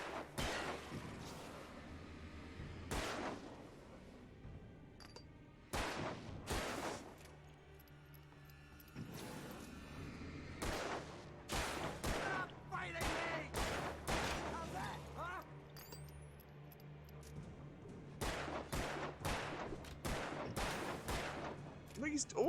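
Repeated bursts of gunfire in the video game Alan Wake, sharp broadband cracks spaced irregularly over a low steady background hum, with some louder shots near the end.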